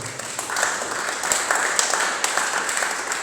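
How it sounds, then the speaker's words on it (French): A church congregation applauds at a seminar gathering, a steady wash of many hands clapping with sharper bursts throughout, moderately loud and continuous with no voices on top. "Est-ce qu'on peut acclamer très fort pour la gloire de Jésus?"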